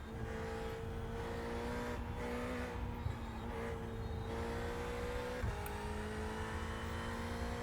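A race car engine on warm-up laps in the iRacing sim: a steady, loud engine drone whose pitch shifts with gear changes and a brief dip mid-lap, continuous with no talk.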